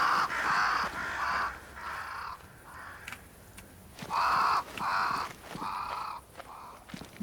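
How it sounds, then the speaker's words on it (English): Crows cawing in the game Banishers: Ghosts of New Eden, a run of harsh repeated caws in uneven groups, fairly close, over a low ambient bed with a few faint clicks. "Crows. They flock to that great tree up there."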